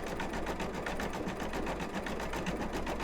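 Embroidery machine sewing a gingerbread man design, its needle hammering in a fast, even, continuous rhythm, close and unbroken with no voices.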